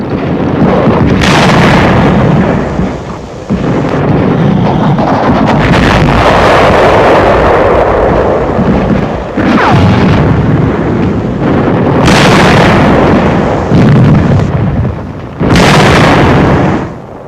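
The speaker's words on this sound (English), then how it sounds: "The tank suffers a direct hit, and the crew leaps from the flames." Shell explosions around a tank taking a direct hit in 1945 wartime combat, heavy blasts and wind-buffeted rumble recorded on a handheld camera, with loud bursts recurring through a continuous roar.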